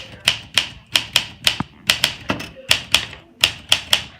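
Sharp mechanical clacks from a typewriter being typed on, arriving in quick bursts of two or three strikes with brief pauses between, crisp and close.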